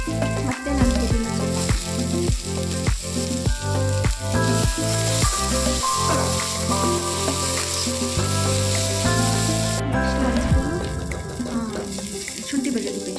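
Ginger garlic paste frying in a pan for ghee rice, a continuous sizzle under loud rhythmic music with a sustained tonal backing.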